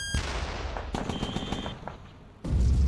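Troops in the War Room video game fire rapid bursts of gunfire, with sharp cracks in a quick run before a dense, louder barrage sets in.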